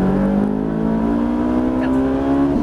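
Ferrari F458 engine accelerating on a race track at Le Luc, a loud, steady high-revving tone climbing smoothly in pitch over a couple of seconds.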